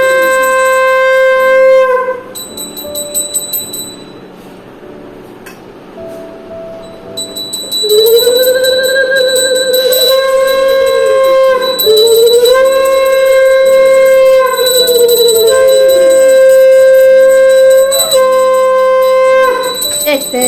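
Conch shell (shankh) blown at a home Janmashtami puja: long, loud wavering blasts that bend up and down in pitch, interrupted by a quieter pause, over a constant ringing bell tone, close and dominant.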